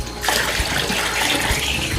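Water gushes steadily into a container being filled, a loud continuous splashing rush that starts abruptly after a brief quieter moment and keeps going without pause.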